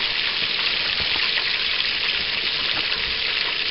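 Butter bubbling and sizzling steadily in a pan with flour being added, a continuous dense crackle at even loudness with no voice over it.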